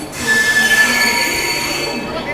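A moving Amrit Bharat Express train on an Indian Railways Delhi to Gaya run rolls past with loud clattering wheels and a sustained high metallic squeal, close and continuous.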